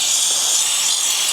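Steam cleaner spraying a motorcycle engine around the oil cooler and voltage rectifier, giving a steady, close, loud hiss that runs unbroken through the moment.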